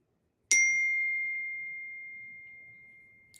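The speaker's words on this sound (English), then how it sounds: "sorry, I got a text message." A single text-message notification ding on a phone: one clear bright chime that rings out and slowly decays over about three seconds in an otherwise quiet room.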